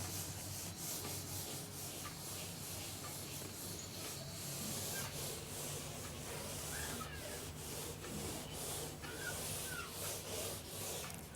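A duster rubbed across a classroom blackboard, giving steady, continuous scraping and swishing strokes that run throughout at close range, with no talking.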